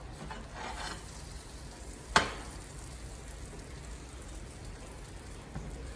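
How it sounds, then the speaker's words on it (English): Kerrygold butter melts in a pan with a steady, quiet sizzle and crackle, broken once by a sharp utensil tap, and no one talks. "So we're gonna let that Kerrygold butter melt."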